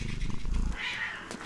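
A summoned cat in the fantasy video game Battle Brothers Legends growls and purrs in a low rumbling burst, then a higher, airy snarl trails off, close and fairly loud.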